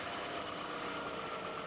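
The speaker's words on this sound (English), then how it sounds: "Okay, the engine is running." Toyota Prius engine running steadily at idle during a check-engine-light diagnosis, a constant broadband hum and hiss with no clear rhythm and no voices.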